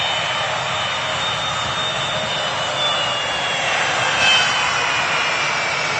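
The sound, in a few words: airplane engine at Manchester Airport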